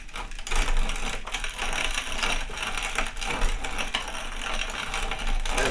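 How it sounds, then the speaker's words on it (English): A small corn mill grinds feed corn with a steady, dense mechanical whir and rattle, loud and close, running continuously with slight fluctuations and no voices. "grinding the corn."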